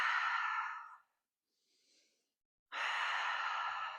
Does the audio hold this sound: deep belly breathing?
yes